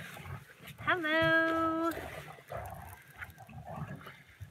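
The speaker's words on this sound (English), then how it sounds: "The dogs have picked now to sit behind the camera and fight each other." Dogs scuffle behind the camera at a Mississippi farm, with a high, sustained whine and yelp rising over nearby speech, then a low, rough growling under continued talking.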